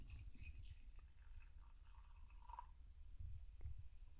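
Cider poured into a bowl, a soft wet trickle and drips running steadily under low background rumble, with no talk.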